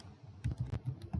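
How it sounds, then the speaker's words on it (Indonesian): Laptop keyboard keys tapped in a quick, uneven burst of about six close, crisp clicks, as a web address is entered into a browser. "Saya ketik"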